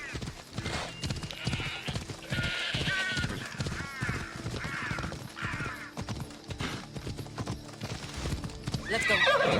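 Hooves of the horse Phobos in the video game Assassin's Creed Odyssey clip-clop in a quick galloping rhythm, close and clear, with a neigh, crow caws and scattered game sounds over them.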